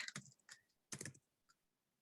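Typing on a computer keyboard during a Zoom call: a few short clusters of key clacks, close and fairly quiet, separated by brief pauses, with no voices.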